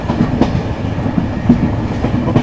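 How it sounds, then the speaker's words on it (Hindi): The Amritsar–Chandigarh intercity train 12242, a short rake of sleeper, chair-car and second-seating coaches, rumbles loudly along the rails on a rainy cold day, with rhythmic clickety-clack wheel beats heard from onboard. "बहुत छोटी सी ट्रेन है, 2 3 tier, 1 chair car, 6 second seating के कोचेस।"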